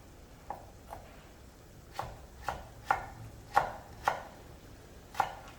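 Knife slicing a carrot into thin 0.3 cm pieces on a slightly hollowed cutting board, about eight distinct chopping knocks coming at an uneven, unhurried pace, close and moderately loud.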